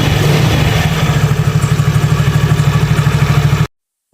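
Yamaha Mio X-Ride scooter, just repaired after a weak part was replaced, idles steadily up close with a fast even putter and light mechanical clatter, then stops abruptly into silence.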